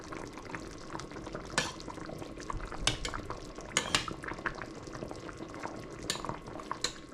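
Hungarian meatballs turned over in a simmering pot, with a steady bubbling hiss beneath scattered light clinks and scrapes of a utensil against the pot, without talk.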